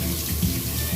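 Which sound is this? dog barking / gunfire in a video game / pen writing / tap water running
tap water running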